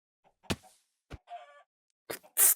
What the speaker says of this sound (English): Stupid chicken.